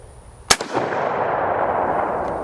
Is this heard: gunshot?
yes